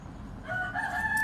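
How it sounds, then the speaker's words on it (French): A rooster crows faintly in the distance, rising over a rumbling, noisy background for about a second, with no talk. "Comme le cocorico là."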